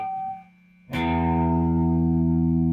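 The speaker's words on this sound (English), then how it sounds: "So we're going to start off the lick by hitting that top string," An open high E string on a guitar is struck once after a brief pause, ringing out loud and sustained with a bright attack and a steady, slightly effected tone.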